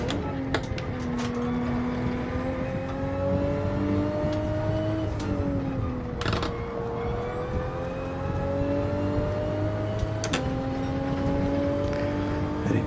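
Toyota Supra Gr4 race car in Gran Turismo 7 on the Nürburgring GP circuit, engine revving up through the gears in repeated climbing pulls with brief shift breaks, loud and steady.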